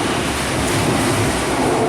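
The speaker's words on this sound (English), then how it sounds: "As the train goes over" A train rumbles across a bridge overhead in a steady, broadband roar that stays loud and continuous throughout, with wind buffeting the microphone during a walk outdoors.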